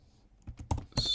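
A few quick keystrokes clatter on a computer keyboard while configuring a Cisco switch, faint at first then sharper, ending on a firmer key press.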